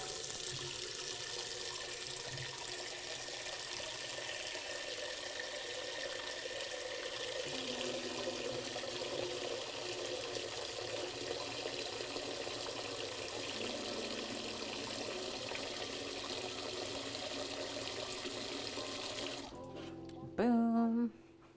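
Water pours steadily from a kitchen tap into a pot for pasta, a continuous close hiss and splash that runs unbroken for about twenty seconds before cutting off, followed by a brief clunk.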